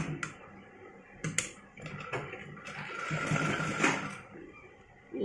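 A sewing machine stitches a three-year-old child's frock, with a close whirring run of stitching that swells and eases, broken by a few sharp clicks and taps.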